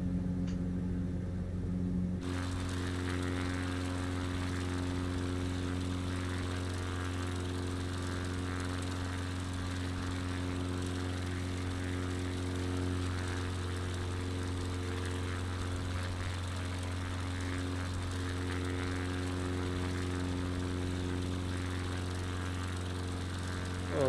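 Cub Crafters light propeller aircraft in flight around Malta and Gozo, its engine droning loud and steady from close inside the cabin, with a brief quieter lull at the start before the full tonal hum settles in and holds.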